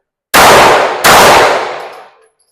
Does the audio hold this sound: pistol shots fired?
yes